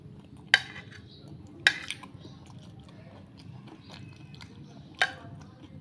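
Someone eating pasta cooked in a mini cooker at home, with a few sharp utensil clinks against a dish over faint chewing and low room noise, no talking.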